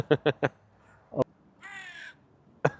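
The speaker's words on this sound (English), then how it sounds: "Crows are saying, guys, you're here for too long." Crows give several sharp caws, three quick calls close together and then more after a pause, fairly near and loud, with a brief soft vocal sound between them.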